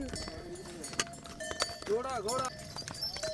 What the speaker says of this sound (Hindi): घोड़ा समझदार है यार